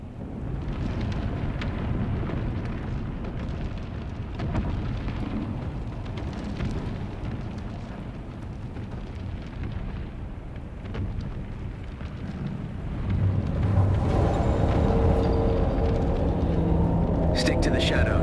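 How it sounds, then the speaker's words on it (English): A roaring sandstorm in the video game Dune: Awakening, a broad, steady rush of wind and rumble that swells louder near the end, with a voice speaking over it. "The Mother Storm is upon us."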